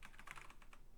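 Rapid keyboard typing, a quick burst of crisp key clicks close by at a fairly quiet level.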